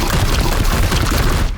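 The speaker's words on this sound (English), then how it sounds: "Firing now." Gunfire in the video game Chaos Gate Daemonhunter, a dense, loud burst of rapid shots and booming impacts filling the whole moment without letup.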